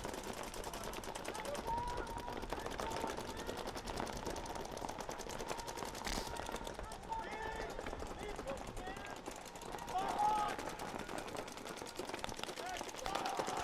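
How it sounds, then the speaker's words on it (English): Paintball markers firing during a tournament match, a steady stream of faint, rapid pops heard from a distance beneath ongoing commentary. "Everyone still in their original starting bunkers is dumping paint right now."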